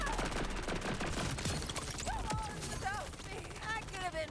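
Rapid turret gunfire in the Borderlands video game, a fast stream of shots mixed with other loud game effects and chirping sounds, with no talk over it.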